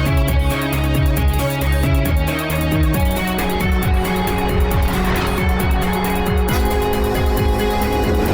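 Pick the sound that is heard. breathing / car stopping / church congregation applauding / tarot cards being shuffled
car stopping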